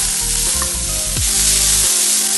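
Finely chopped large onion hits hot oil in a pan while making masala, giving a broad, steady sizzling hiss up close with a low hum beneath, continuous throughout and no talking.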